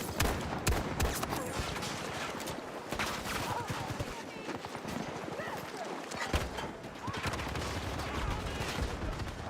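Gunfire in the game Battlefield 2042 sounds as a dense, continuous clatter of shots and impacts, loud and close throughout, mixed with other game noise and someone talking.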